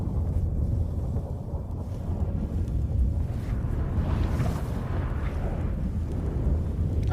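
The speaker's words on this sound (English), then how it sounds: "That a storm?" A storm sweeps through The Witcher 3 during the final battle, a loud continuous rumble of wind and deep booms that swells midway and carries on without let-up.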